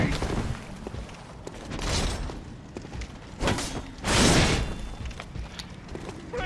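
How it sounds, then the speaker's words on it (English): A transform attack smashing an enemy shield in the game Bloodborne comes through as dense mechanical clanks and crashing impacts, with louder heavy bursts near the middle and end and a voice talking over the combat. "the transform attack will break the shield for you"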